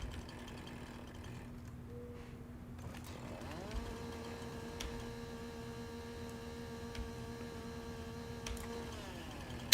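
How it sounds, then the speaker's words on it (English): Chainsaw in Farming Simulator 19 cutting through a tree trunk, a quiet steady motor drone that shifts to a higher sustained whine partway through and holds, faint and without voices. "activate the chainsaw and wait until it's gone through the entire width of the trunk"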